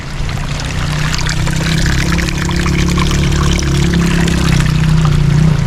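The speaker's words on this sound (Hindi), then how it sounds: "ये पानी है बिल्कुल उबलता हुआ" Boiling hot spring water flowing in the Hunza valley, a continuous loud rushing and pouring close by with a steady low rumble, unbroken for several seconds and no voices over it.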